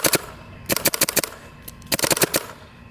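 Shocker paintball marker firing in rapid bursts of sharp pops, three clusters of quick shots separated by brief pauses, close and loud with no talking.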